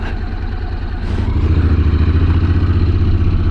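A motorcycle engine rumbles loud and close, then steadies into a stronger, even throb as it is put in gear and pulls away, with no talking.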